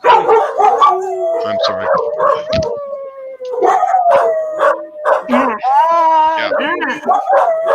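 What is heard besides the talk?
corgi dogs howling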